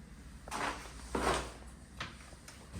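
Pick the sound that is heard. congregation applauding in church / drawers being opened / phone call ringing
drawers being opened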